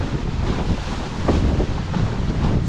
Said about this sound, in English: So smooth with the offshore wind